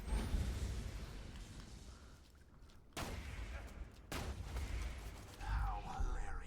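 Shotgun blasts from Sledge's Shotgun in Borderlands 2 boom out in heavy bursts, with sharp reports near the 3 and 4 second marks over a dense wash of game combat noise.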